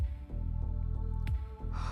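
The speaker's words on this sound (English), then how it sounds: "Hearing those words, Saber gasps." Saber, a female character in the visual novel game Fate/stay night Remastered, gives a short, breathy gasp over quiet, sustained background music.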